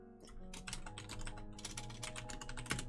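Frantic computer keyboard typing, quiet and steady, with dense overlapping key clicks from two people typing at once over a faint background hum.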